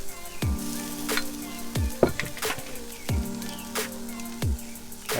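Vegan food sizzling on a hot grill, a continuous crackling fry punctuated by sharp clanks and scrapes as more pieces are laid down and moved about.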